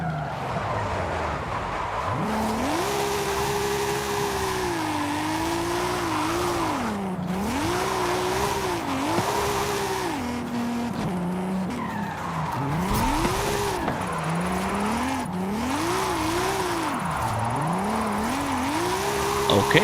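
A Lamborghini in Forza Horizon 5 drifts with loud, continuous tire squeal over an engine note that keeps surging and dipping in repeated swells, close and sustained throughout.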